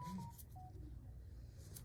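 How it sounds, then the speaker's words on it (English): A mobile phone sounds with short electronic tones during a quiet indoor recording, faint and brief over low room hum. "I forgot to turn off the phone"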